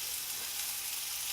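Peppers sizzle in a hot pan with a steady, even hiss that fills the whole moment without any break, and no one speaks.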